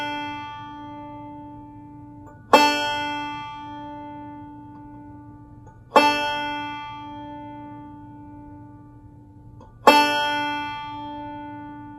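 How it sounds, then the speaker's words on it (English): Open D string on a banjo is plucked three times, each a sharp bright twang that rings and slowly decays in a quiet room, spaced a few seconds apart. "The bottom string here is a D, and it sounds like this."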